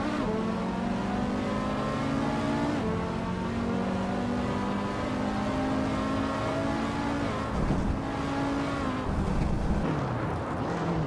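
A classic 1956 Maserati 450 race car in a racing video game, its engine droning steadily with rising and falling revs through gear changes, loud and continuous with no talking.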